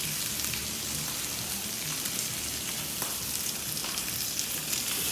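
Chicken and pork barbecue browning on a hot grill, a steady loud sizzle and crackle of fat that runs without a break, close and alone.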